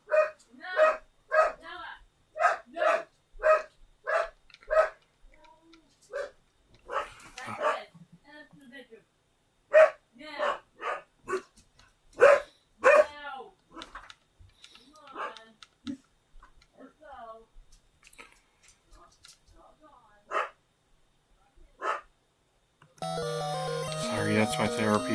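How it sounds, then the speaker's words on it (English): A therapy dog barks repeatedly in loud, sharp bursts at someone at the door, the barks spaced through most of the stretch, followed by a burst of louder noise at the end. "Sorry, that's my therapy dog. If she sees somebody at the door, she goes absolutely nuts."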